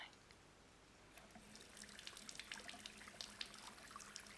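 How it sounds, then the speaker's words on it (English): Water from a tap starts running a little over a second in, then keeps a steady splashing hiss with small drips and spatters, close and soft in a quiet indoor setting. "I'll get the water going."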